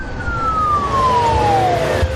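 An ambulance siren with a single falling wail that glides steadily downward over a couple of seconds, loud and close against a constant roar of road noise.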